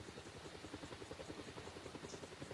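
Helicopter rotor in a flight simulator game, a steady rapid thumping pulse with an engine drone underneath, continuous and close, with no speech.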